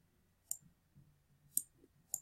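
Three sharp, faint mouse clicks, spaced about a second apart, while working in Xactimate roof sketch software; quiet room, no talking.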